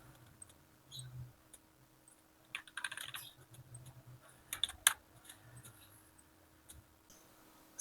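Someone typing an Excel formula on a computer keyboard, with scattered key taps and short bursts of clicks, ending with a sharper press like the enter key, close and fairly quiet.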